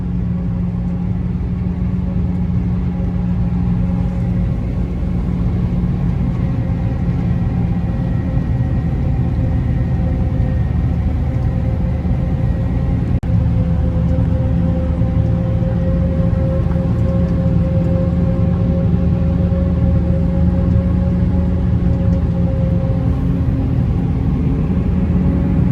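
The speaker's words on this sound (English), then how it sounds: "On board in the forager now." Forage harvester engine running steadily while chopping maize, a loud continuous low rumble with a constant droning hum that holds unchanged from start to finish, heard from the cab with no talk.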